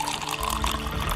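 Water poured into a glass of liquor, a short steady splashing trickle that fills the glass, heard up close with no talk over it.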